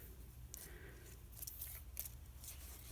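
Scissors snipping through a piece of light purple paper, with a few short, crisp cuts close by in a quiet room.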